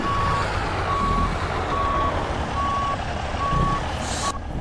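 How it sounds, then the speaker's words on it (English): A truck's reversing alarm beeps at a steady, evenly spaced pace while it backs up a trailer, loud over a constant rumble of engine and road noise. "It's just counterintuitive, backing up a trailer."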